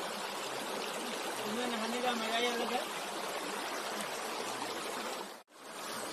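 Mountain river water rushes steadily near Ranikhet in Uttarakhand, a broad continuous close-up flow with someone speaking briefly over it and a short break near the end.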